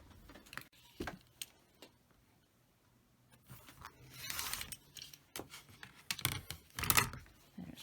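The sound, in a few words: cutting apart fabric half-square triangles for quilting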